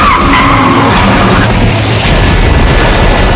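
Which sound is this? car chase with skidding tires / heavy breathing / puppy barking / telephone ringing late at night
car chase with skidding tires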